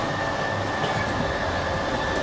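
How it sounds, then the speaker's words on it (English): An RV slide-out motor runs steadily as the slide extends, a continuous loud mechanical drone with a faint high whine held evenly throughout, no voices. "Once your slide is all the way out, it's going to stop making the motor noise"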